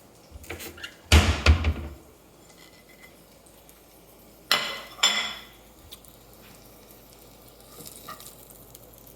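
Dishes and a plate clatter in a kitchen while golden oyster mushrooms are being cooked. Two short bursts of clinking and scraping stand out against a quiet background, with a few faint taps between them.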